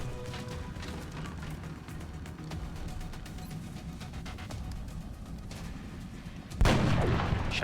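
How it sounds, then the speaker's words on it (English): Artillery bombardment in the video game XCOM: Enemy Unknown, a dense run of rapid booming shots and crackling impacts that ends in a louder, heavier blast. "Bombarding that position."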